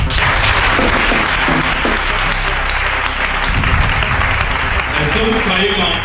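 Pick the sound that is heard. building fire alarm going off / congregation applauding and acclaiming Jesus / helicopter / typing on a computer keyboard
congregation applauding and acclaiming Jesus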